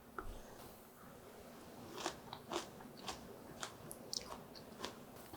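Crisp bites and crunchy chewing of a chive (buchu) side dish seasoned with chili powder, pear and perilla dressing, a string of close, quiet crackly crunches at irregular intervals over a soft background.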